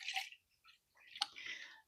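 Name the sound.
water filling Chilipad Dock Pro reservoir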